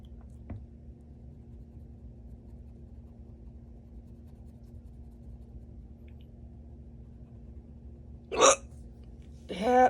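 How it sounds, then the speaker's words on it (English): Hiccups: two short, sharp bursts near the end of a mostly quiet stretch with a low steady hum, plus a faint tap early on. "Yeah, hiccups, hiccups."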